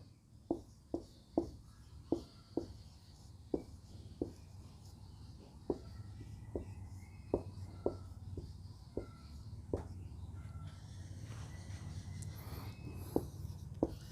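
Pen on paper writing out a Bengali primary-level maths solution produces a string of sharp, close taps and short scratches at an irregular rhythm over a quiet room hum, with no speech.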